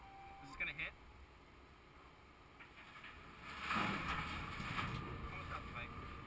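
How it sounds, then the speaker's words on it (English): Ferry boat crossing a Yukon waterway toward town, with steady engine rumble and wind buffeting the microphone, people talking over it. "we're gonna take the ferry to go into town"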